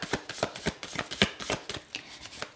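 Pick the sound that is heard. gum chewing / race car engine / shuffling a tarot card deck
shuffling a tarot card deck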